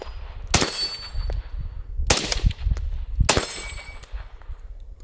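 Three sharp suppressed gunshots from a Springfield Armory Hellion bullpup rifle, fired slowly at roughly one-second gaps, each a loud near crack with a short ringing tail over low outdoor rumble.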